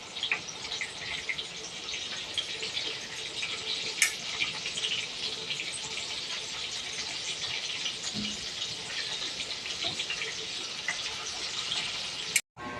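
Food sizzling steadily in hot cooking oil, a continuous crackling hiss throughout with a couple of sharp pops, close and moderately loud.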